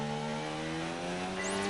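Formula 1 race car engine in the F1 2019 video game accelerating out of a corner at the Hungarian GP, a steady high-pitched engine whine rising in pitch throughout, alone without talk.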